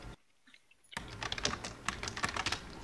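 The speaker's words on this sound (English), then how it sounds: "I'm typing stuff" Brisk typing on a computer keyboard follows a short silent gap, a dense run of clicking keystrokes at close range, moderately loud, with no voices.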